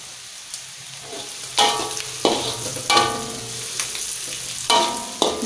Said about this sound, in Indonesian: ini saya biarkan dulu bawang bombay dan bawang putihnya ini agak sedikit kecoklatan biar baunya itu harum ya